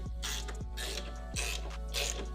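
Ratchet wrench clicking in several short bursts while tightening suspension nuts on a Spec E36 race car build, close and moderately loud over a steady low hum.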